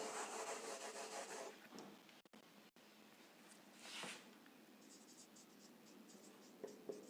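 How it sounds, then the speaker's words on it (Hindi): A pen scratching on paper while a math problem is written out, giving a faint continuous close scratch for about two seconds, then a few soft, scattered strokes and taps. "हम यहां लिख देते हैं"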